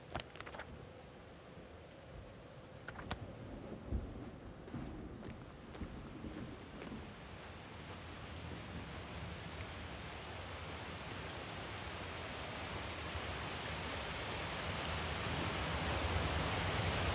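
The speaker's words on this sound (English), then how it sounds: "The storm's getting worse." A storm in The Invincible video game, with a few sharp crackling thunder hits early on and then a dense hiss of rain and wind that slowly builds in loudness.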